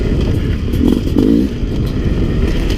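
A Sherco 300 SE-R dirt bike engine idles and burbles nearby, a loud steady low rumble with a couple of brief throttle swells in the middle.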